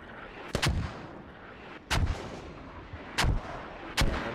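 Mortar rounds land in a tactical shooter game, four heavy booming impacts spaced about a second apart, each a sharp blast with a short rumbling tail over a low background hum.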